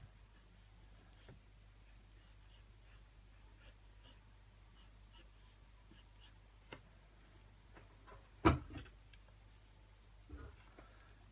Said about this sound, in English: I just draw a lot of lines to make the line thicker and thicker.